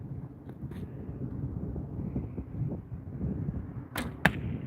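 An arrow is shot at an outdoor archery range, its short sharp release and whoosh landing near the end over a low, steady rumble of wind and ambient noise.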